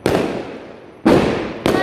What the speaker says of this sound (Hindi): खूब जल रहे हैं पटाखे